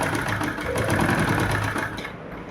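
A sewing machine stitches a doubled seam on a kurti, whirring steadily and close at a constant speed with no pause for the whole stretch.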